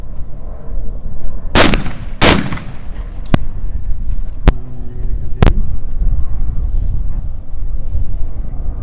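Test shots from a competition shotgun at a clay shooting final: a few sharp, loud blasts with uneven gaps, two close together, then single reports, over a steady outdoor background.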